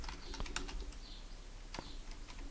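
A few crisp computer keyboard key presses, Control, Space and then Enter, tapped singly at close range in a quiet room.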